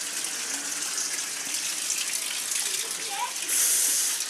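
Cold water flowing steadily in the blue town of Chefchaouen, a constant broadband rush close by that swells louder near the end, with faint background voices.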